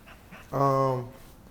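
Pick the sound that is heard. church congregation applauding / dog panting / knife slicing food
dog panting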